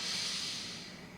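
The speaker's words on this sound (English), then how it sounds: "Get a big inhale. Forceful exhale." One forceful exhale pushed out during a core-strengthening breathing exercise, a close, breathy rush of air that tapers off.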